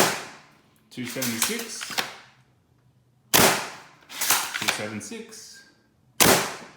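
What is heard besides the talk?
Adventure Force Pro foam dart blasters firing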